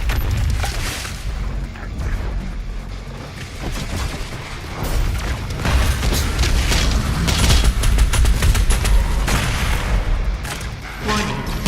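The BFG 10,000 fires in Doom Eternal amid a barrage of heavy booms and rumbling blasts, a dense, loud, continuous wall of explosive sound that swells toward the end.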